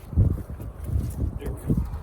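A tarp on a Klymit Sky Bivy shelter flaps and billows in gusty wind like a sail, with low rumbling buffets pulsing a few times while someone talks over it.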